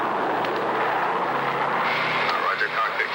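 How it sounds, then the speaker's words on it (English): The engines of a C-124 aircraft flying blind through ice fog over mountains: a steady, loud droning roar with a narrator talking over it throughout. "Our C-124 is flying totally blind through a treacherous ice-fogged mountain"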